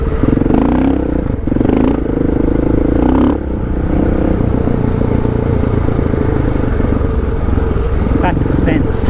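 A big adventure motorcycle rides a bush trail on a group ride near Brisbane, its engine a loud, close, steady drone with clattering and scraping over rough ground and a few surges of revving.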